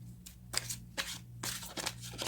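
Tarot cards are shuffled by hand in quick, papery riffling bursts separated by brief pauses, close and fairly quiet, with no talk.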